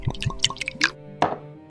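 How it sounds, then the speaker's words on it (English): Whiskey is poured into a glass, giving a quick run of liquid plops and glugs with a rising, ringing fill tone, close and clear, then a short final splash. "He poured himself a drink. Not gin,"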